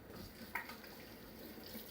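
Running water from a tap as flour-covered, sticky dough hands are rinsed, a soft steady stream with a faint splash, quiet and continuous.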